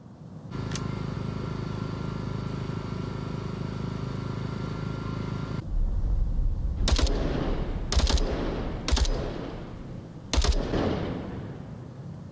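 Bursts of video game gunfire in a competitive match: a steady low din gives way to several sharp, loud volleys spaced a second or so apart, with no talking in the clip.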